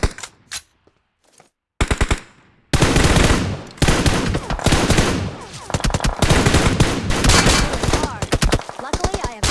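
In PUBG, rapid automatic gunfire bursts out in loud close volleys, starting with a few scattered shots and then growing into near-continuous machine-gun fire.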